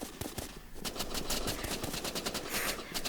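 Rapid pistol fire in the Roblox game Rivals, a dense run of quick, sharp shots repeating almost continuously over game noise, loud and close, with no voices.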